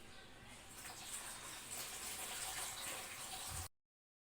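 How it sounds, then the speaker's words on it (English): Water is poured onto a small model water turbine, giving a steady, close hiss of splashing and gushing. It runs for about three and a half seconds and then stops abruptly. "So I'm going to add water at this turbine at a height for its rotation to the turbine."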